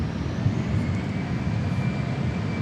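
A Southwest Airlines Boeing 737 MAX 8 jet rolls on runway 13 left at Dallas Love Field. Its steady engine roar and broadband rumble stay loud and constant, with no voices.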